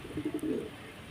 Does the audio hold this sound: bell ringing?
no